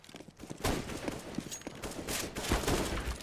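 Rapid bursts of gunfire from a Counter-Strike: Global Offensive warm-up round on a competitive server, dense overlapping shots rattling continuously and loudly throughout with no pauses.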